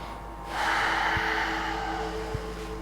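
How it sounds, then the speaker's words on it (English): Slow, full breathing during a yoga pranayama exercise: a steady, airy inhale sweeps in and is held for a couple of seconds, close and soft, with no voices. "Full comfortable breathing."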